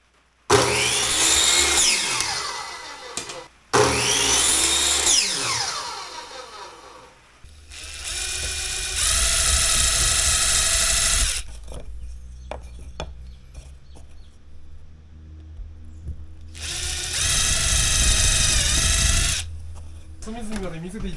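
A power drill drives screws into a square wooden block, several loud whirring bursts separated by pauses, with clicks and handling noise between them.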